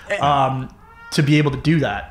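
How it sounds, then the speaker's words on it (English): A house cat meows close by in short drawn-out calls, with people talking over and between the meows. "I heard meow. Here's a cat."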